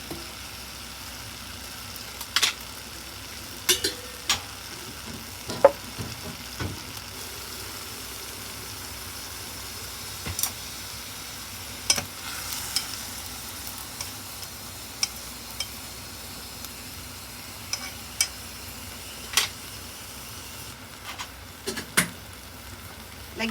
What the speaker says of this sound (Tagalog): halu-haluin nyo lang para siya maluto kaagad